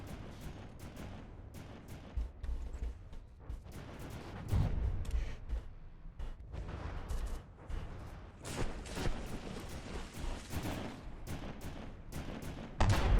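Heavy gunfire and booming cannon blasts from a big gun firing in a video game battle, with repeated sharp shots and rumbling impacts throughout, dense and continuous at moderate loudness.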